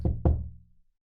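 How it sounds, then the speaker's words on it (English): Two quick, heavy knocks on a door, close and booming, fade out fast into silence. "And you hear a knock at your door."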